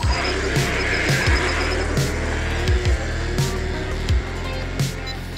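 A 3D-printed RC car drives hard, its electric motor whirring in repeated bursts with rising pitch, punctuated by rattles and tire scuffs as it accelerates and turns, loud and close, no talk.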